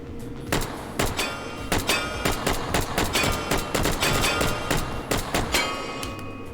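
AUG A2 rifle fire in a video game cracks out in a series of sharp shots, some single and some in quick bursts, with metallic ringing tails and short gaps between.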